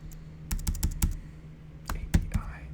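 Sharp keyboard clicks in two short bursts, several quick keystrokes each, from close-miked typing of a localhost endpoint during a quiet coding session, with low hum underneath.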